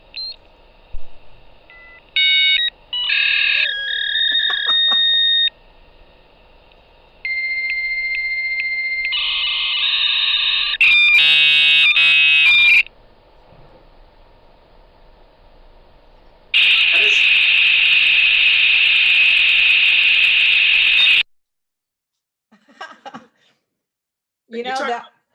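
A dial-up modem connects to the internet: dialing tones and beeps, then screeching handshake tones, buzzing bursts and a long harsh hiss of static, loud and close, with a pause and faint chirps at the end.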